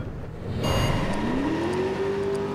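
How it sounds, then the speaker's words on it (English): A Pontiac LeMans driving in Driver: San Francisco, its engine droning steadily and then revving upward in a smooth rising pitch as it accelerates, close and continuous with no talk. "I'm driving a Pontiac LeMans."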